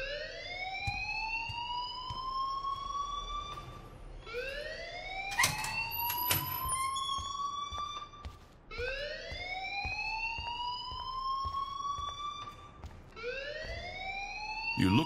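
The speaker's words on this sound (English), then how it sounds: "please turn off that alarm since that's your job" A fire alarm in the video game Life Is Strange gives a loud electronic wail that rises in pitch, then drops and climbs again about every four seconds. It sounds continuously, with a few sharp clicks and no talking.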